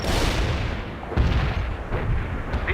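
An artillery barrage rumbles in the strategy game World in Conflict, with several heavy booms landing one after another over a dense, roaring din, loud and close.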